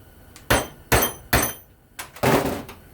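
A screwdriver busts apart salvaged microwave parts, giving four loud, close knocking impacts at irregular intervals, the last one a longer rattling crash, with no voices.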